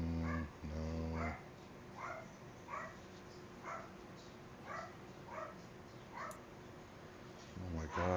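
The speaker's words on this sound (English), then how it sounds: "that fucking dog doesn't shut the fuck up" A dog indoors gives repeated whining yelps and short barks at a steady rhythm, close and fairly loud, with a low voiced bark or grumble at the start and end.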